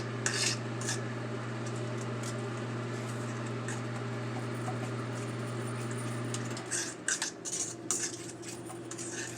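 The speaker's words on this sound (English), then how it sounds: "If it looks lumpy, just keep mixing." A whisk or spoon scrapes and clinks steadily against a pot while bechamel cheese sauce is stirred, a quiet repetitive metallic rubbing over a constant low hum that stops near the end, leaving a few sharper clanks.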